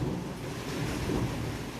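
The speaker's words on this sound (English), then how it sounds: "Yeah, the thunderstorm is going crazy." Thunderstorm in a blocky Minecraft-like game world: a steady, loud wash of rain and wind with low rumbling underneath throughout, and no one talking.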